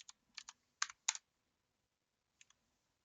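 A few quick clicks of computer keyboard typing come in short bursts, then pause before two lone taps; close and quiet, with no voices.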